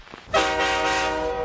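A train horn sounds at a station, a loud sustained tone that starts abruptly after a short quiet moment and holds steady to the end.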